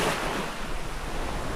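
Surf rolls in continuously on Wonga Beach in Far North Queensland, near the mouth of the Daintree River, a broad steady wash of breaking waves with some wind noise and no voices.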